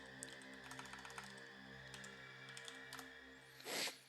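Fingers tap on a computer keyboard in quick, irregular clicks, fairly quiet against a steady tonal hum in the background.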